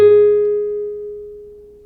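One plucked guitar note, G sharp fretted at the fourth fret, rings out clearly and decays gradually over nearly two seconds with no other sound.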